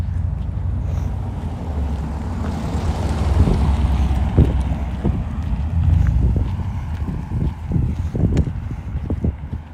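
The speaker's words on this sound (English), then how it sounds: "The wind will be back." Wind blowing across an empty field near Niagara Falls, gusting and buffeting loudly with rough low rumbles and scattered thumps, steady and close throughout.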